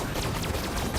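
Rapid weapon fire in the Destroy All Humans! video game, a dense continuous volley of shots and whooshing blasts, loud and unbroken, with no talk.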